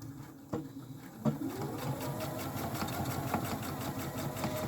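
A sewing machine stitches a fabric panty liner with a steady mid-pitched whir and rapid rhythmic needle pattering, starting after a couple of brief handling clicks and running continuously at moderate volume.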